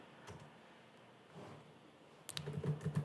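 Keys tapped on a computer keyboard while entering a name for a sign-up sheet tracker in Google AppSheet, a quiet scattered run of light clicks that grows busier and louder near the end.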